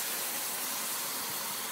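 Pizza sauce of tomatoes and garlic simmering in a pan: a steady, close, broad hiss of steam and sizzling, loud and continuous, with no distinct pops.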